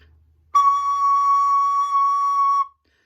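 One high C sharp on a soprano recorder sounds steadily for about two seconds, clear and whistle-like, then stops cleanly into silence.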